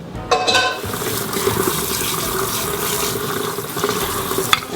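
Tap water runs steadily into a kitchen sink as boiled lamb chops are rinsed, a constant rushing splash with small clinks and shifts in the flow near the start and end.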